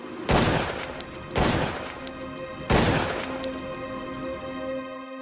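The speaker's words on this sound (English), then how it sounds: "I fired the gun" Three sharp, loud gunshots ring out roughly a second apart, each leaving a long echoing decay that fades after the last shot.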